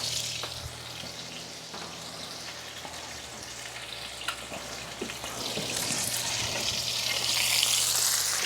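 Black grouper fish frying in a little oil in a pan, a soft continuous sizzle with occasional crackles and pops that grows slightly louder toward the end, no talking.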